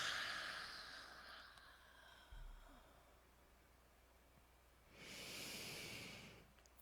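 A person breathing out during a guided breathing exercise with arms raised, heard as a long, close, airy exhale after a stretch of soft, quieter breath.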